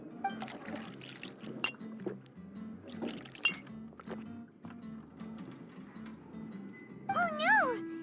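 Juice pours into a glass in a cartoonish video game scene, a soft liquid trickle with faint glass taps, heard under game music and character dialogue.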